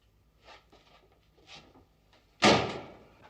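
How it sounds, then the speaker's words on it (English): A door shut firmly indoors: a few faint shuffles and creaks, then one loud close thud with a short rattle, heard alone without talk. "Shut that door, will you?"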